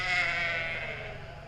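A sheep at a 4-H show gives one close, drawn-out bleat that fades slightly toward its end, alone without voices.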